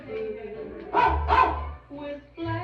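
A dog barks twice in quick succession within a novelty pop song, the loud yaps rising over the band's music and vocals.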